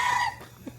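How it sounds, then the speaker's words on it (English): A chicken wandering near an outdoor breakfast spot in a southernmost-town setting gives a brief, close cluck or crow-like call that fades quickly into quiet surroundings. "It's our first chicken spotting."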